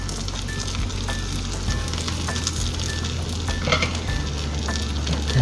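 Bread slices toast in butter and olive oil in a pan, making a steady, close sizzle with occasional soft clinks and stirring sounds.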